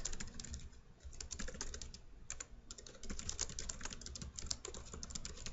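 Steady typing on a computer keyboard, close and fairly quiet, with rapid clustered keystrokes running throughout and a brief pause near the start, no voices.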